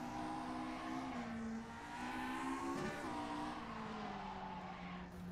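GSF2K race car lapping the Sachsenring in the racing sim rFactor 2: a loud, continuous engine drone whose pitch climbs and dips through gear changes, with tire squeal mixed in.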